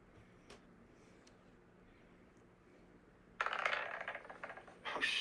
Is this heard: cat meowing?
no